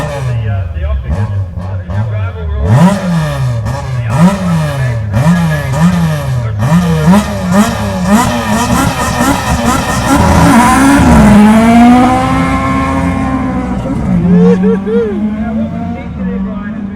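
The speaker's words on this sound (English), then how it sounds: "Plenty of smoke from Brodie Anderson as he leaves the start line in the Ford Escort" A Ford Escort Mark II rally car pulls away from the start line of a super special stage at the Otago Rally, smoking its tyres. Sharp rising revs and gear-change bursts come first, then a loud sustained engine roar, with a commentator talking over it.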